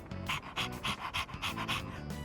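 A dog in Persona 3 Reload pants in quick rhythmic bursts, about eight breathy huffs in steady succession, close and clear with no talking.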